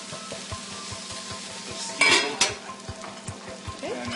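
Broccoli florets tossed in a frying pan alongside sage trout sizzle steadily, with repeated soft clinks and scrapes of utensils against the pan and a louder burst of clatter midway.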